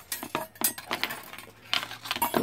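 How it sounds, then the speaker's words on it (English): Loose metal parts of a clock movement clink and clank against each other on a workbench during reassembly, a close, irregular run of light metallic taps and rattles. "Move all this out of the way so it doesn't keep clinking and clanking."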